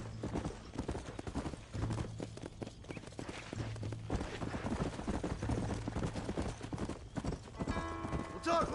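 Horse hooves clip-clopping at a steady trot during a ride in the video game Red Dead Redemption, close and continuous, with voices talking over the hoofbeats.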